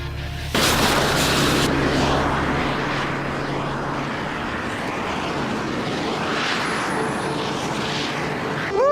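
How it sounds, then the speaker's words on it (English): An airplane window blown out by explosive decompression, releasing a sudden loud burst followed by a sustained roaring rush of air venting from the cabin, with a low steady drone underneath throughout. "Now this is explosive decompression. A hole the size of the window allows a huge rush of air out of the plane"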